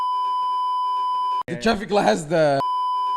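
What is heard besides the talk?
censor beep over speech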